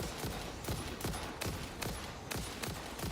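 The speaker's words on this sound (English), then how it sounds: "Who's shooting at me?" Rapid bursts of video game gunfire crackle in a steady, repeating rhythm, each shot sharp and broadband, with dense overlapping fire continuing throughout at moderate loudness.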